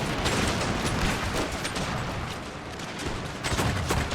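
Musket volleys crackle across a battlefield in Empire: Total War near Guyana, dense overlapping gunfire with repeated sharp bursts and distant booms, loud and continuous.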